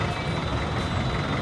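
Vehicles idle and rumble in a crowded Divisoria street in Manila, forming a dense, loud, continuous low traffic drone with a faint steady tone above it.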